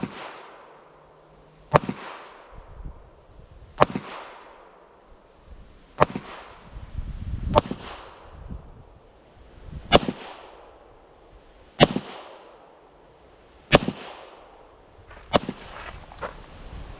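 Pistol shots at a shooting range, comparing a Girsan Match 2311 and an MPA DS9 competition 2011-style pistol: about nine sharp, loud cracks spaced roughly two seconds apart, each ringing out briefly, with no talking.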